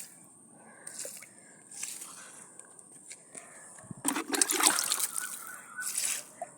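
Water splashes and trickles onto a capsicum (bell pepper) plant during garden watering, with soft patters early on and a louder, wetter burst of pouring near the end, close to the listener.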